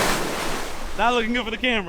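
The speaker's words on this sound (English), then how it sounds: "There's too many waves, man." Ocean waves wash against a rocky shore in a broad roar of surf and wind for about a second, then someone talks briefly over the lingering water noise.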